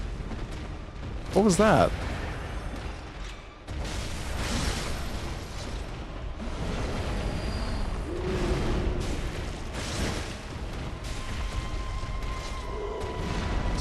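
Gunfire rings out in the video game Bloodborne during a permadeath randomizer run: a loud cluster of shots and impacts early on, then rumbling combat noise, with a player talking over it.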